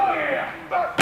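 A commentator talks over a wrestling match, then a steel chair strikes a wrestler with one sudden, loud, sharp metallic crack at the very end.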